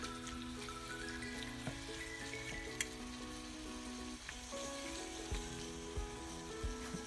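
Pork sizzles steadily in a pan for Filipino afritada while a utensil stirs it, with occasional scrapes and knocks against the pan, close and continuous without talk.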